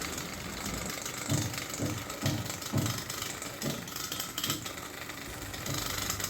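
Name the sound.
homemade hair trimmer shaving a beard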